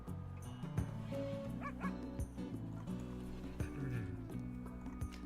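A dog barks and yips in a run of sharp, close calls with some whimpering between them.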